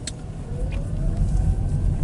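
A car cruising down the road with a steady low engine rumble and tyre roar, continuous and fairly close, with no talking.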